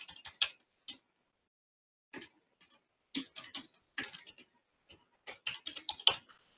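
Fingers typing on a computer keyboard, crisp clicking keystrokes in irregular clusters separated by short silences, close and alone.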